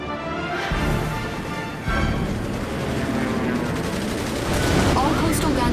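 Gunfire fills a battle in the video game Red Alert 3, a loud, dense wash of continuous shooting and explosions that runs throughout, with a voice faintly speaking beneath it.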